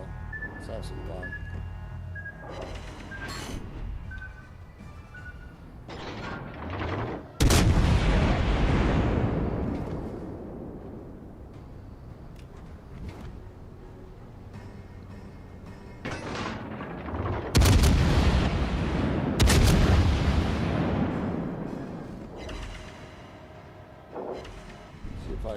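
Heavy naval gun salvos of high-explosive shells in a World of Warships game, booming blasts around 7, 17 and 19 seconds with rolling decay, amid game ambience and someone talking throughout.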